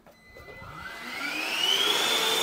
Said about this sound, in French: Donc on va allumer l'aspirateur